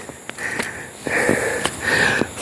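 A hiker breathes heavily after a steep climb, with close, rhythmic rasping gasps and sniffs repeating in quick succession.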